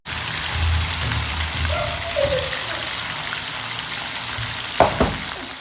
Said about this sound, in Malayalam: ചിക്കൻ പീസ് അത്യാവശ്യം ഫ്രൈ ചെയ്തെടുക്കണം കേട്ടോ